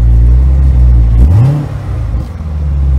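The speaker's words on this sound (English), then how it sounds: "Hand controls, so you just squeeze for throttle," A car engine fitted with an adaptive hand-squeeze throttle idles with a steady low hum, gives one quick rev that climbs and falls back, then settles to idle again. Nobody speaks.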